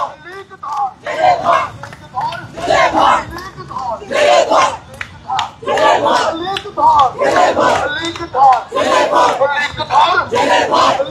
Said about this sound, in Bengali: বিভিন্ন স্লোগান দিচ্ছেন জাতীয় যুব শক্তির নেতাকর্মীরা